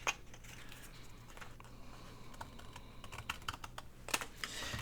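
Scissors trimming junk mail paper in a series of quick, close snips and rustles, with a faint hum underneath.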